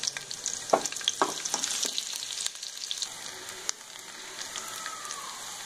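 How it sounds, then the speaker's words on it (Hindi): Onions frying in hot oil with asafoetida for Banjara-style urad dal, a steady crackling sizzle with a few sharp pops and stirring clatters early on, settling into a softer hiss. "यहीं पर मैंने प्याज ऐड कर ली। इन्हें प्याज को हम सुनहरा कर लेंगे।"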